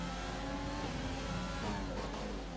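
A Formula 1 race car engine in the F1 2020 video game drones steadily throughout a league race, a continuous high-pitched whine with shifting pitch as the car is pushed around a corner, loud and without pause.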